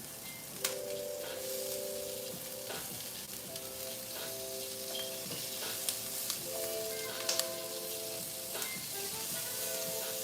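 Sausage fries in a pan with a steady, close sizzle throughout, broken now and then by small pops and crackles.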